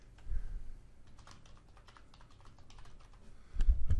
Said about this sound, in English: I'm trying to type while I'm talking.